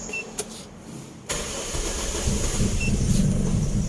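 A car engine is started after its ignition coil polarity has been reversed: a faint click, then the engine catches around the midpoint and settles into a steady, low idle rumble that grows slightly louder, with no talking.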